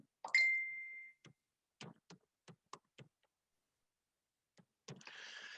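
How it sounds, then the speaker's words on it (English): A mobile phone pings with a bright chime, followed by a scatter of soft clicks and taps, then a brief burst of noise at the end, all in a quiet room. "Sorry, my phone's pinging."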